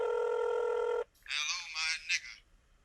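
A phone's electronic ring tone sounds steadily for about a second and cuts off, then a voice answers and talks.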